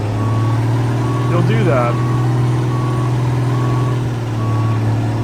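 Semi truck from American Truck Simulator backing up in its high reverse gear, a steady low engine drone with a repeating reversing beep near the middle, while someone talks over it.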